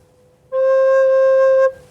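A recorder plays a soft, steady note C, blown gently: one clear, pure held tone of a little over a second, close and alone against a quiet background.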